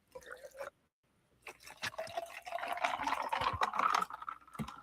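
Water poured into a cup, a close trickle that starts, pauses briefly, then resumes as a fuller, rising pour with small clinks and drips, without anyone talking.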